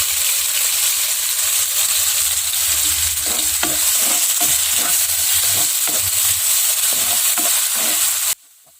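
Ground spice paste frying in a pan over low heat, a steady dense sizzle with intermittent stirring scrapes throughout, close and loud before cutting off abruptly near the end.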